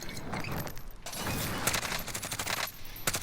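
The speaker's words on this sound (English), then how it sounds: "I can hear the shooting behind me" Call of Duty gunfire, fairly faint, with rapid crackling volleys and sharp bursts that keep going with brief gaps, as if coming from behind the player.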